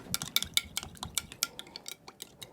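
Hot cake pan for a lemon poppyseed cake being taken out: a quick flurry of close metallic clinks, taps and scrapes, loud and irregular over about two seconds.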